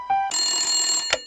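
A telephone rings loudly and close in one sustained electronic trill, preceded by a short tone and ending in a brief click.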